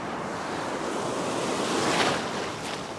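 Ocean surf breaking on a beach where someone is fishing: a continuous loud wash of churning waves with wind rushing over the microphone, swelling slightly near the end.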